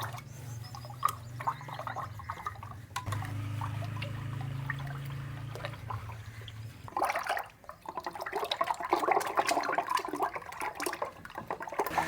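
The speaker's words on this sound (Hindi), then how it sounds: "इसमें हमने मधानी चलानी है ताकि ये अच्छे से मिक्स हो जाए" A hand churner (madhani) whirls through milk, sugar and eggs for a traditional village sweet, a sloshing, churning liquid sound that rises to busier, louder splashing in the second half.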